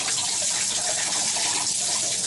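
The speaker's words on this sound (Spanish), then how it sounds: "Miren cómo se vacía rápido." A bottle of water empties fast in a swirling rotation, giving a steady close gushing rush that stays loud from start to finish.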